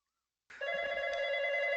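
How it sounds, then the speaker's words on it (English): A telephone rings after a moment of silence, its bright electronic tone holding steady and clear in a quiet room. "There's my phone."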